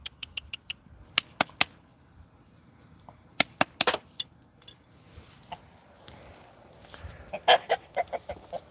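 A chicken clucks near the mic in scattered sharp bursts and short runs of clicks, with quiet pauses and faint background rustle between, no talking.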